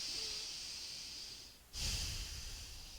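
Slow, deep breath during a goddess-pose yoga flow, a soft steady airy exhale followed by a stronger, noisier breath with a snort-like rush through the nose, close and alone.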